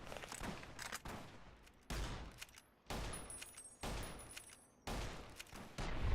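A lever-action repeater rifle fires in Fallout: New Vegas, about six sharp, loud shots spaced roughly a second apart. Each crack has a short, decaying tail.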